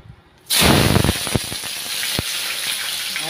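Chopped onions hit hot oil with a sudden loud sizzle that settles into a steady, crackling fry, with a few sharp spatters along the way.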